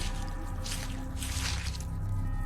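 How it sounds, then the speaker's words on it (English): A jawfish being gutted in the game The Fall gives a brief wet squish with dripping, soft and close, over a steady low ambient hum. "I have gutted the fish."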